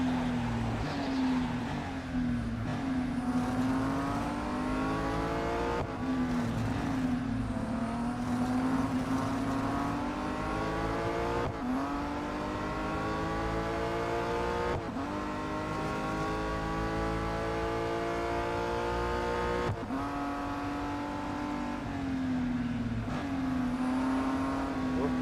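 Race car engines in the mobile racing game Real Racing 3, a continuous droning engine note rising through the gears with repeated upshift drops, the car racing on a track among other cars.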